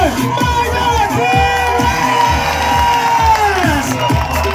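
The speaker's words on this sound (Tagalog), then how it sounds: "salubungin natin ang masigawang palakpakan na may sigawan ang ama ng Coron, Mayor Margot T." A rally crowd in Coron cheers, shouts and claps to welcome the mayor, loud continuous cheering and whoops over rhythmic pounding music, with children's shouts and crowd babble throughout.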